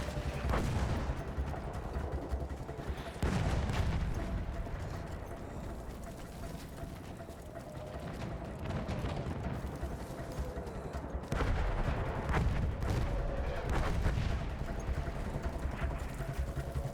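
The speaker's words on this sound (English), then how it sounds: "Artillery already?" Booming artillery and gunfire from a Battlefield 1 campaign battle, repeated heavy blasts recurring through the scene with a dense battlefield din underneath and a voice cutting in.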